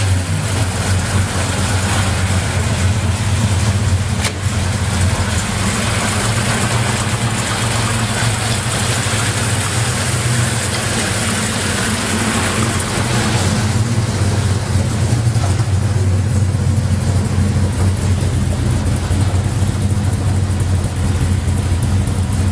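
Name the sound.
350 small-block Chevy V8 in 1986 Jaguar idling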